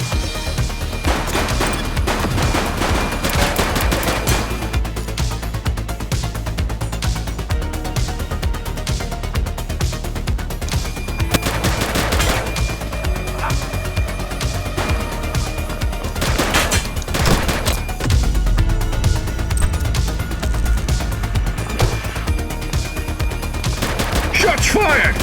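Sustained gunfire in the police game The Precinct, dense rapid bursts and single shots running nearly nonstop for over twenty seconds, loud, mixed with booms, music and radio chatter.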